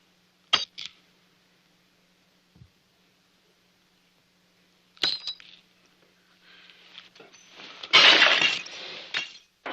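Glasses smashed after a toast in an old regimental mess: a couple of sharp glass breaks early on, then a denser burst of shattering and tinkling debris near the end, with no talk.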